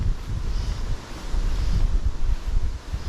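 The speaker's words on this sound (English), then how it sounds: "Shows you how strong the wind is." Strong wind buffets the microphone outdoors amid falling leaves and bushes, a continuous loud low roar with gusts rising and falling throughout.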